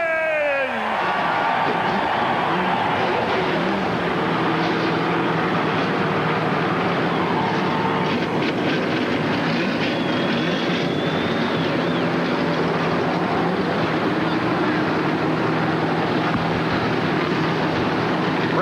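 Race car engines fire up for the 2001 Daytona 500, a rising roar that settles into a loud, sustained rumble and drone lasting many seconds amid the crowd.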